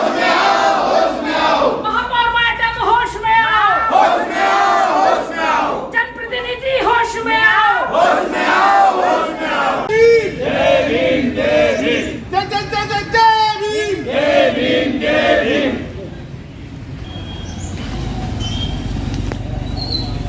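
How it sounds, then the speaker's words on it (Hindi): Municipal corporation sanitation workers protesting at a collectorate chant slogans together, a loud crowd of voices in rhythmic bursts that fade toward the end, with talking in the background. "नारे लगाने पड़ रहे हैं, किस बात को लेकर नाराजगी है"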